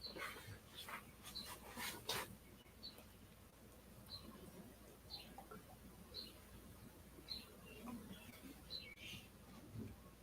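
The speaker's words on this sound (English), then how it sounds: "Sorry, that's my dog." A dog whimpering in the background, a run of faint, short high whines repeating every second or so, quiet and somewhat distant in a room.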